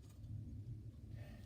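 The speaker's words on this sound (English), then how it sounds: "Oh, it's thundering." Low, continuous thunder rolls steadily through the whole moment, deep and fairly distant, with no voices over it.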